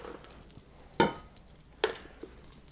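Walnuts are stirred into maple mashed sweet potatoes in a pot, heard as a few distinct close scraping and clacking strokes spaced apart, with quiet pauses between them and no speech.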